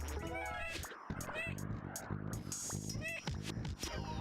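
A cat meows in the N64 bowling game Super 10 Pin, with short rising and falling game-sound cries recurring over dense music and effects while someone talks throughout.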